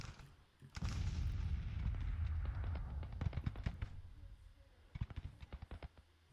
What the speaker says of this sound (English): Start shelling them.